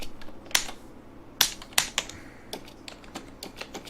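Typing on a computer keyboard, with irregular clicks and a few sharper, louder keystrokes, close and alone with no talking.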